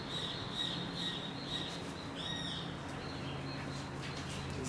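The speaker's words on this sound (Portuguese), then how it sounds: "E você acordar, né, com cantos de pássaros realmente é uma coisa muito, muito agradável" Birds singing and calling outside a house, a few faint chirps and short whistled calls drifting in and out over a steady, noisy outdoor background.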